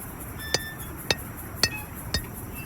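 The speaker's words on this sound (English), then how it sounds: "So I'll just hit these with an hammer" Four evenly spaced metallic hammer strikes in Farming Simulator 19, each a sharp ringing clink over a low steady background hum, moderately loud and close.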